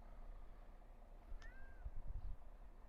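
A small cat meows once, a short rising-then-falling call, over steady wind and low rumbling outdoors among the rocks near Belogradchik Fortress; faint thumps follow.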